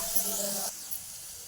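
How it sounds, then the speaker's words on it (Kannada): Chilli paste hits a hot pan and sizzles in a bright, close hiss that cuts off abruptly after about a second, with quiet kitchen noise after. "ಇವಾಗ ಇದಕ್ಕೆ ನಾನು ಚಿಲ್ಲಿ ಪೇಸ್ಟ್ ಹಾಕ್ಕೊಳ್ತಾ ಇದ್ದೀನಿ."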